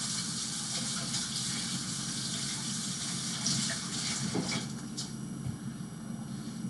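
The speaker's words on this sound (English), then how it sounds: "let me wash my hands." Tap water runs steadily into a sink during handwashing, a continuous close rushing with a few brief splashes and clinks as hands move under the stream; no one speaks.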